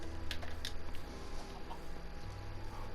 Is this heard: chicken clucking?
yes